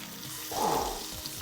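A steak flipped in a hot pan, giving a brief swell of sizzling and spitting fat over a quieter frying hiss, close by and with no talking.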